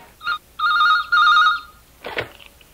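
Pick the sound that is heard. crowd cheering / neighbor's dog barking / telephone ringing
telephone ringing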